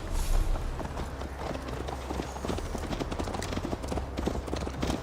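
Horse hooves clip-clopping at a steady riding pace in the video game Assassin's Creed Valhalla, a continuous rhythmic patter of hoofbeats over a low ambient rumble, with no talk.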